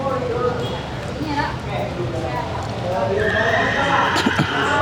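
A horse whinnies and its hooves clip-clop during an outdoor riding lesson, with people talking over the steady background noise.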